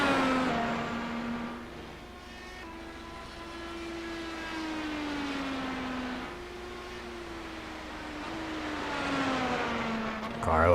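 Race car engines at Phillip Island in iRacing, one near car's engine droning steadily and shifting pitch up and down through gear changes and corners, with a continuous background roar and a commentator talking over it.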